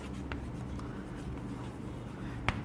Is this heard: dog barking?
no